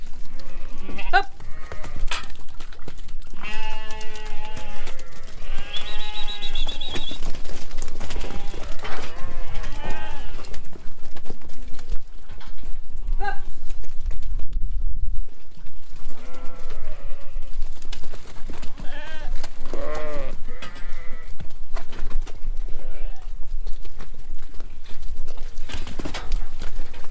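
Lambs bleating repeatedly while being herded up a footpath, many loud overlapping cries close by alongside hoof clatter, with a voice talking in between.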